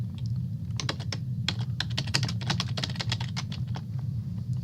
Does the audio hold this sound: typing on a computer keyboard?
yes